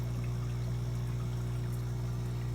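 Water from an aquarium overflow drains through a pipe into a drain, a steady, faint, continuous flow layered over a constant low hum.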